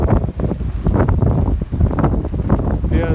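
Strong gusting wind buffets the microphone outdoors near a corral ahead of rain, a loud, rough rush that surges and dips unevenly throughout.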